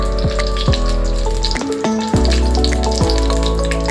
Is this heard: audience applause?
no